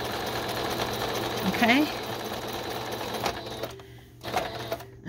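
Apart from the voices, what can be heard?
sewing machine stitching fabric and lace pocket page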